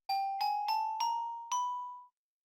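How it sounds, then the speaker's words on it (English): Five bright bell-like tones from a Minecraft Bedrock Edition note block placed on a gold block, struck in quick succession at a slowly rising pitch, each ringing clearly and decaying, with the last note left to fade alone. "or a block of gold for a bell sound"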